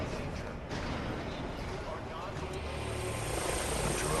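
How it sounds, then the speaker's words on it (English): A buzzing drone in a Batman Arkham video game whirs with a steady, loud rotor-like drone, accompanied by a constant wash of game noise, with a voice talking over it. "Oh my god, a drone!"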